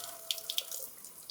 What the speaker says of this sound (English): rinse the sensor thoroughly with water to remove possible streaks and chemical residues